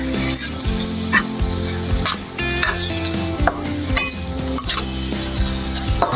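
Ground pork sizzles steadily in a hot pan, close and clear, with repeated scraping stirs and clinks of a utensil against the metal.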